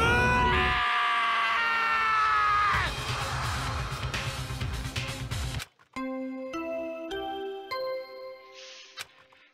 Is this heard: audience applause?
no